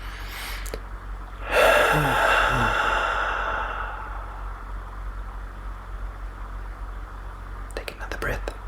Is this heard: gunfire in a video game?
no